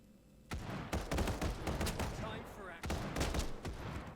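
Rapid bursts of gunfire from the Final Fantasy VII The First Soldier battle-royale game, two loud clusters of sharp shots with a short gap between them, and a voice faintly underneath.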